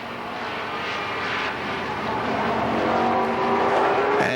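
Stock race cars run side by side through turns 1 and 2 on a short oval at Kil Kare Speedway, a dense engine roar that swells slightly as the pack passes, with an announcer's voice faintly beneath.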